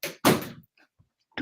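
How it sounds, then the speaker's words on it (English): A door swings shut with a loud, close thud and a brief rattle, preceded by a short knock. Faint small clicks follow in an otherwise quiet room. "You just close that door."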